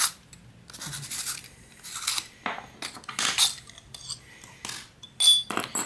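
The metal inner tube of an airgun silencer is pulled out and tossed, making a string of close, sharp metallic clinks, scrapes and rattles in uneven bursts with short pauses between them.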